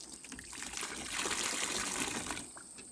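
Water trickles and drains steadily from freshly washed raw Icelandic wool outdoors onto a deck, a continuous soft splashing dribble that swells slightly midway, fairly close and alone without talk.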